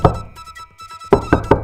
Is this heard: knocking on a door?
yes